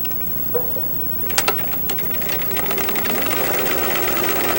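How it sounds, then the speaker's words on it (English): A home sewing machine runs a straight seam on fabric turned right sides together, a steady mechanical whir and rattle building after a few sharp clicks and settling into continuous stitching. "at this time you may just stitch straight down so that that will be perfectly even"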